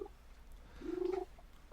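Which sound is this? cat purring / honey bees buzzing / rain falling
cat purring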